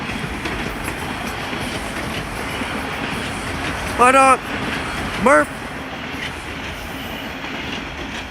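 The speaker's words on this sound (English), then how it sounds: "Oh, there's a subway train. Catch the subway train." A Toronto subway train rumbles past in a steady, loud roar, with two brief bursts of high metallic wheel squeal midway. A person talks over it.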